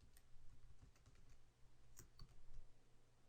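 Someone typing a formula on a computer keyboard, a quick run of soft, close key clicks with brief pauses between bursts, heard alone without talk.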